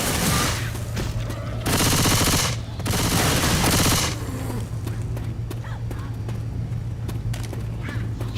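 Video game gunfire, two long loud bursts of rapid automatic fire followed by scattered sharp single shots over a steady low hum, with a voice talking briefly.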